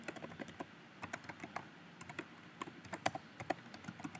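Typing out C program code on a computer keyboard, a steady run of close, crisp key clicks with uneven rhythm and small pauses, heard alone with no voices.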